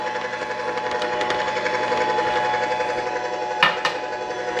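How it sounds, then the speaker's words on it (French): A juicer machine runs while making fresh juice, a steady buzzing mechanical drone with rapid rhythmic pulsing, followed near the end by a couple of sharp clattering knocks. "J'arrête la machine et je vais chercher mon jus"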